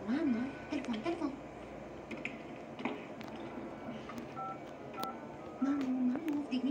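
Phone dialing tones from a video game phone, a run of short beeps followed by warbling ring tones, heard under intermittent talk.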